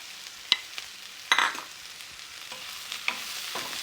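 Chopped pepper tipped into a hot pan for vegetable Manchurian gives a soft sizzle under a few stirring clacks of a spoon against the pan, close and moderate in level with no talk.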